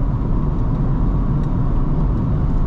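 Chevrolet S10 pickup with 48k miles and mild all-terrain tires cruising at about 65 mph on the highway, a loud, steady low engine and road rumble with constant tire noise.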